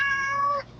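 A cat in the Chawri Bazaar street setting gives a single clear meow, close and fairly loud, lasting under a second before fading into faint background noise.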